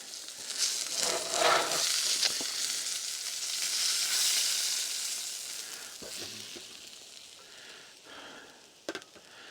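Steak sizzles steadily in a pan at a Colorado campsite, a loud continuous frying hiss with faint clinks, close by and alone without talk.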